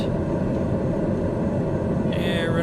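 Steady low rumble of a TBM930 turboprop engine taxiing in Microsoft Flight Simulator, a dense continuous drone with a faint whine rising near the end, no talk over it.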